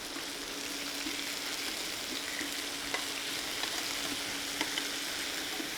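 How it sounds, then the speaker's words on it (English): French beans frying in a pan with a touch of olive oil, a constant bright sizzle with small scattered pops and crackles, close and steady, no voices. "I'm going to put the French beans back into that same pan with a touch of olive oil"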